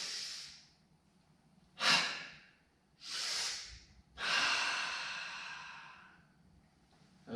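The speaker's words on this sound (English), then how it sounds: "Breathe in and out." Slow, deep breaths during a qigong exercise, four long inhales and exhales spaced a second or so apart, close and clear in a quiet room.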